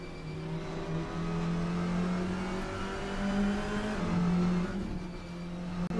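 A touring car in a sim racing game drives steadily through a curve, its engine droning loud and continuous with shifting pitch as it holds speed, no voices over it.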